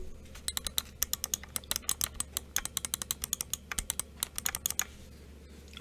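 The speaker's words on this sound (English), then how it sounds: "All right, we got the red switches in. Let's listen." Quick runs of light clicks from an ROG Chakram gaming mouse fitted with red switches, close and alone over a steady low hum, many presses in an uneven rhythm.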